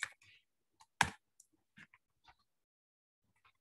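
Computer mouse clicking in GTKWave: a few crisp, close clicks spaced irregularly, one louder than the rest, with near silence between them.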